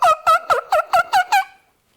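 A turkey gobble imitated on a mouth diaphragm call held against the palate: seven quick, loud, rattling notes in an even run, fading out over the last half second with no talk.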